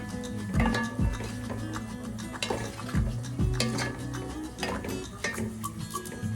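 Leafy greens stirred with olive oil and garlic in a pan, with a steady sizzle and repeated scraping and clanking of a utensil against the pan, close and clear with no talking.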